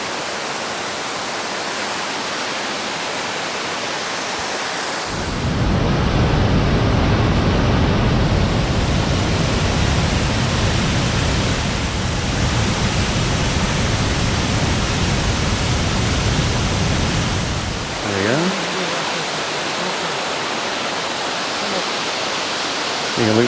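Somersby Falls after floods sends out a loud, steady roar of rushing water that swells closer for several seconds and then eases back to a slightly softer continuous rush.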